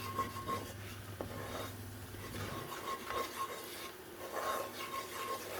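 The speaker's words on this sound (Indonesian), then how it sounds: "sekarang kita masukkan terigu langsung semuanya dan kita aduk" A spoon scrapes and stirs flour into melted fat for a roux in a pan while cooking a French chicken dish, steady rhythmic rasping strokes with a soft sizzle underneath and no talk.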